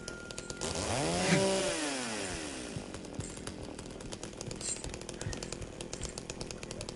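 A chainsaw in the video game Silent Hill 2 revs up with a loud rising, falling whine, then settles into a steady rattling idle with sharp mechanical clatter, heard alone.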